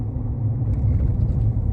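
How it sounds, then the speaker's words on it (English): A truck drives along the road, heard as a steady low engine rumble and road drone from inside the cab, constant and fairly loud with no talk. "So now I'm going back to the yard in Stevie's truck."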